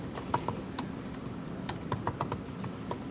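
Fingers tap on a computer keyboard in irregular bursts of sharp, close clicks, some keystrokes clustered quickly and others spaced apart, over a quiet room background.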